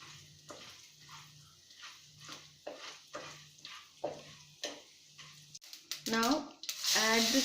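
Vegetable bonda ingredients sizzle in heated oil in a cooking vessel, with repeated rhythmic stirring scrapes, before louder crackling frying and brief voices at the end.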